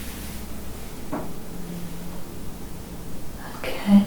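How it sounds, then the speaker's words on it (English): A couple of brief, dull knocks sound in a hushed room at the Valiant Soldier in Buckfastleigh during a paranormal investigation. One comes early and another near the end, both faint and set against a low background hum. "there's an unexplained knock in the room"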